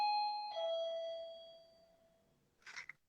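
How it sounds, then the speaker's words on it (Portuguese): A doorbell chimes twice, the first tone dropping to a lower sustained note that rings out and slowly decays, followed by a brief faint rustle and noise near the end. "Tá tocando uma campainha ali"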